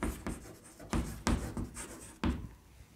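A pen scratching across paper in short, uneven strokes with brief pauses, close and fairly quiet, as numbers are written during a maths lesson.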